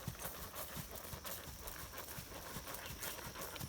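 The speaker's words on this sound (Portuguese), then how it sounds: "O cavalo está marchando" A ridden horse moving in a smooth marching gait during a riding lesson: a quick, even patter of soft hoofbeats, steady and fairly close, under a wash of outdoor noise.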